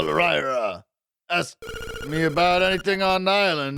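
An electronic telephone ringing in the Link's Awakening video game, heard as bright tonal game jingles that start and stop in bursts, with a person talking alongside.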